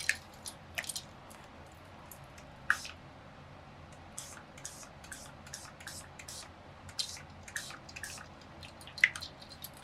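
IZINK dye spray ink, bronze shimmer and butterscotch colors, is misted in a series of short, close hissing spurts spread irregularly over a quiet background, with no talking.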